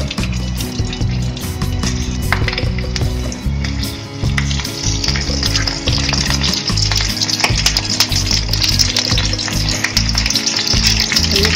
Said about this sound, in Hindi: हम अब इसमें मिर्च तलेंगे, ऐसे एक एक करके रखते जाते हैं।